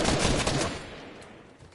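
Shotgun fire in Fortnite sounds as a loud, close burst of gunshot noise at the start, then fades into a decaying tail of reverberant noise.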